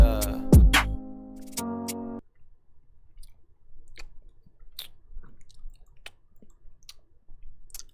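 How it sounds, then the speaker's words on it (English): Close, wet chewing and soft mouth clicks in a quiet room, following a short burst of music at the start, with irregular smacks spaced across the rest. "I'm trying not to chew as loud."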